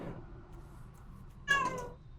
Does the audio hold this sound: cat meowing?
yes